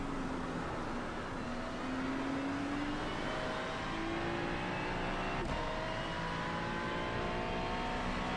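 Race car engine in iRacing at Road America, a steady, loud drone that climbs in pitch as the car accelerates, with a brief click midway and no talking.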